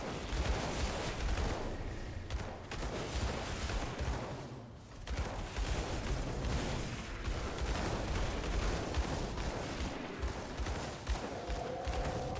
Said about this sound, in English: Exploding mushrooms, classic trope.